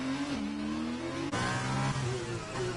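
A race car's engine revs and shifts pitch in a loud, continuous whine as it loses grip and spins out on the Monaco street circuit in an F1 racing game, with no talk over it.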